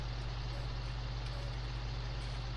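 A combine harvester in a farming simulator game idles and creeps alongside a tipper trailer, giving a steady, loud low diesel drone with a constant engine hum and no voices.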